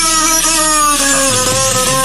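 A beluga whale imitates a human voice with a steady, close, loud stream of harmonic, voice-like tones, and the pitch drops partway through.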